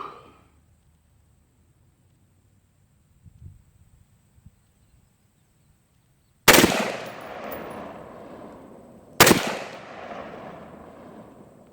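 Two loud, sharp pistol gunshots at an outdoor shooting range, a few seconds apart, each followed by a ringing decay, after a quiet stretch with faint handling noise.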